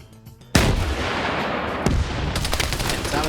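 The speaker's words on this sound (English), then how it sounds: "that was the RSGH launcher, but it didn't make it into the building, only hit the window" In a PvP video game match, an RSGH launcher fires with a loud, sharp blast and then strikes a window in a second heavy impact, followed by rattling debris and a ringing tail.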